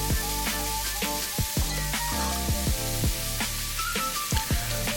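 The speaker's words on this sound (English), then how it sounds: "now we're about to brown the meat" Meat browning in hot oil in a pot, a loud continuous sizzle broken by repeated sharp crackles and pops, heard up close with no talk.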